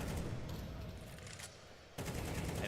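Wall bang gunfire in Counter-Strike during a professional match: rapid bursts of shots crackling through a busy mix, dipping briefly before another loud volley begins.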